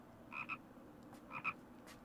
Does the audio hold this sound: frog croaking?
yes